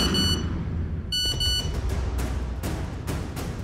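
A phone's message notification tone sounds as a short series of bright electronic beeps, followed by sharp clicks over a low background murmur.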